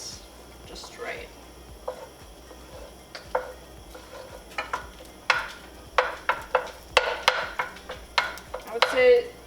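Rice is stir-fried in oil in a pan, with a soft sizzle beneath repeated scraping and clacking strokes of a utensil that grow more frequent and louder.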